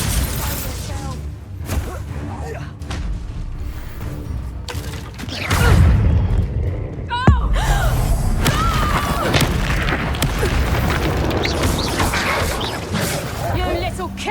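The Bombarda explosion spell goes off in Hogwarts Legacy: a heavy booming blast near six seconds and a sharp crack around seven seconds over busy combat noise, with voices talking throughout.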